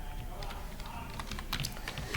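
Rapid typing on a computer keyboard, with a steady run of soft, close key clicks that grows a little busier toward the end and has no clear speech over it.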